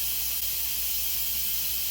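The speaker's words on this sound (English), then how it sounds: "I'm gonna give this a quick release. All that steam to go." Steam hissing out in a loud, steady, unbroken jet during a quick pressure release on an Instant Pot, close up with no talk.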